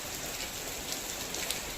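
Heavy rain pouring steadily at an outdoor prasad offering, a dense unbroken hiss of drops with a few slightly louder spatters, no talk.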